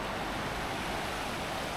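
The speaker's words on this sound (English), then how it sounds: "We've got a nice babbling brook nearby." Near a babbling brook in Ladakh, water rushes in a dense, steady broadband roar, close and loud, with no pauses.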